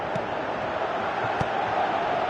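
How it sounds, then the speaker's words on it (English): Stadium crowd in PES 2017 football gameplay, a dense steady roar of many voices swelling slightly in approval, with a few faint thuds underneath. "Crowd appreciates good football all round there."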